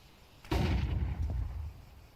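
A single heavy gunshot cracks out in a Counter-Strike style first-person shooter esports match at the Esports World Cup, a wall-penetrating shot whose boom decays over about a second and a half, with a faint second report trailing.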